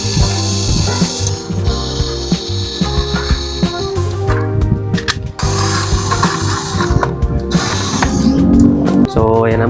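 A power tool whirs and ratchets in repeated bursts while loosening screws on a scooter's CVT crankcase, close and loud with brief pauses between screws.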